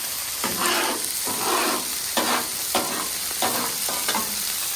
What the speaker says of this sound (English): I'm just working some of that garlic butter right over here